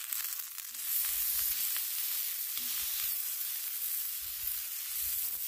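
Thin burger patties sizzle on a Blackstone griddle in a steady, close, bright frying hiss with faint low knocks underneath.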